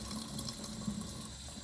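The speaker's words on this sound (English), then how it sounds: "I got really hot water coming out of the faucet" Hot water runs steadily from a kitchen faucet, a close, continuous rushing splash with no talk over it.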